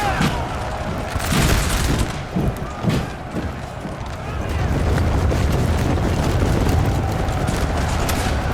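Artillery and musket fire roll across a Napoleon Total War multiplayer battle, with booming volleys and crackling shots early on. A dense, sustained roar of battle noise follows, and a voice talks over the din.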